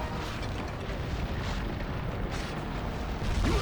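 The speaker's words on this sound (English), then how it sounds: "Put a bomb down." Bomb detonation in Monster Hunter Freedom Unite, a dense sustained rumbling blast with heavy low-end boom filling the whole stretch, loud and continuous.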